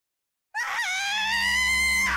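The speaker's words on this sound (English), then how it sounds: "Mamiya-san darted off with a scream as she made a break for the exit, nearly tripping on her own feet." After a moment of silence, a woman in the Raging Loop video game lets out a loud, sustained high-pitched scream that holds steady for well over a second.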